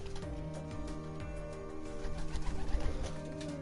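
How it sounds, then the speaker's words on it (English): Pigeons perched on outdoor wires cooing softly, a low repeated murmur set against a steady background hum with tonal racing-game noise. "pigeons keep landing on wires"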